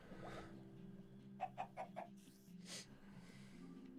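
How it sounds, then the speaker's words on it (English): A chicken in the video game Minecraft gives a quick run of four short clucks, then one more cluck, over a soft, steady background drone. "This little chicken can live in here forever."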